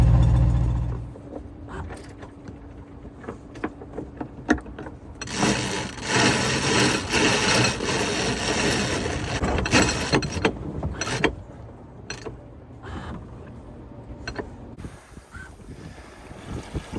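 A sailboat's motor idles in a harbor as a low, steady hum at the start, then gives way to loud rushing wind and water noise with scattered mechanical clicks and knocks.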